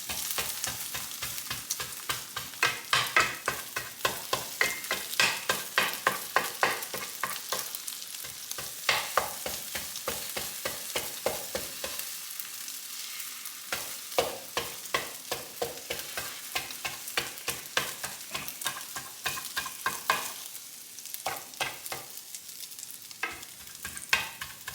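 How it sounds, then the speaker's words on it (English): An egg fries in a pan for fried rice and is broken up with a spatula. A constant close sizzle is punctuated by a rapid stream of scraping, tapping strokes across the pan. "Basically, I'm just roughly breaking this egg up till it's into smallish pieces."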